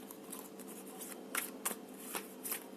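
Tarot cards being shuffled and handled as one more card is drawn, producing soft continuous riffling with several crisp snaps and flicks standing out, close and fairly quiet, with no talking.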